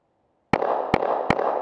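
Three sharp, loud gunshots from a Kahr CW9 9mm pistol, evenly spaced about 0.4 seconds apart, each a sudden broadband crack followed by ringing echo, fired at close range with no talking.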